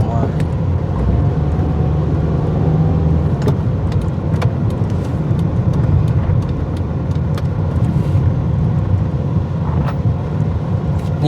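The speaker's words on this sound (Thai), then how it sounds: "รถคันนี้สิออกมา" A car pulls out onto a street in Vientiane, a steady engine and tyre rumble over continuous traffic and wind buffeting on the microphone, with a few sharp clicks and occasional voices.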